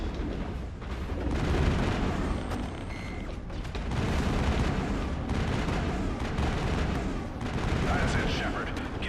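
Dense, continuous gunfire and booming impacts from combat in the video game Mass Effect, loud and layered in surging waves, with voices talking under the barrage.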